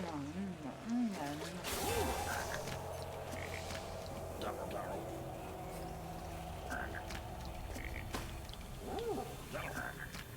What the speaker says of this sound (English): you are constantly making the same frog noises that the regular frogs make